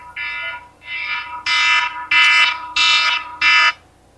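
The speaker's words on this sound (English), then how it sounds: "You guys will just have to live with that timer going off" A kitchen timer alarm goes off in a workshop, six loud electronic beeping bursts in a regular pulsing rhythm, close and alone with no voices.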